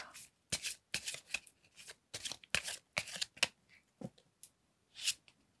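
Tarot cards being handled and shuffled, a series of quick close riffles and snaps in short bursts separated by brief quiet gaps, with no talking.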